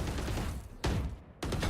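Gunfire in the video game Valorant, crisp sharp shots as two distinct bursts over a continuous game-audio bed, fairly loud and close with no talk over them.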